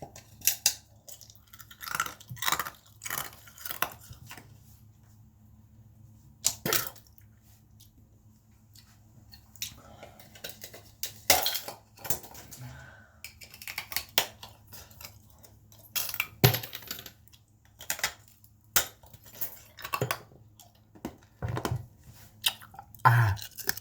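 Someone chews and crunches ice cubes up close, sharp irregular crunches separated by quiet pauses, with a few clicks between bites.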